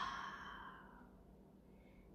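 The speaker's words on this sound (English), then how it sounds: "deep, audible exhale" A deep, audible exhale during yoga breathing, a single long breathy release that fades steadily into quiet.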